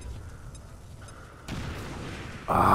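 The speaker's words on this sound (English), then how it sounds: "Full explosion and fire effects look really cool." An XCOM 2 explosion with fire effects arrives in stages, a low rumbling bed that jumps louder in two abrupt steps, ending in a bright, roaring blast; no one speaks.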